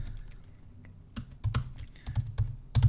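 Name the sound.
typing on a computer keyboard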